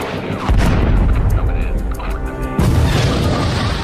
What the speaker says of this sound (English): The nightly airstrikes pound Iraqi positions throughout the region